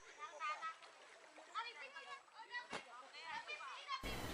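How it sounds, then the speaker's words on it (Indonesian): Splashing water from a large man-made pond where men's and women's teams of Dayak villagers in Central Kalimantan plunge in to grab stocked fish by hand, with busy overlapping splashes and crowd voices and shouting throughout. "Dengan menceburkan diri ke kolam, mereka saling berebut ikan yang telah ditebar di dalamnya."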